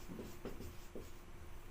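Marker or chalk strokes on a classroom board while a simple sentence is written out, a few faint scratchy rubs spaced irregularly over low steady room hiss.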